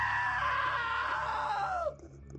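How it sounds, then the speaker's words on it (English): A long, loud scream from a character in What Remains of Edith Finch, sustained and wavering for nearly two seconds before dropping off sharply into a low background hum. "Now that was a great scream."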